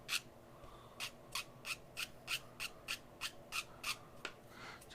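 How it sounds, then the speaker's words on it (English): Sanding the edges of a model kit part where it was cut from the sprue, a close series of short, evenly spaced rasping strokes, about a dozen in a steady back-and-forth rhythm. "Just want to sand down the edges ever so slightly where the sprue"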